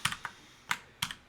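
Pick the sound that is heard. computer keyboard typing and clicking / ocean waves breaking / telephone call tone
computer keyboard typing and clicking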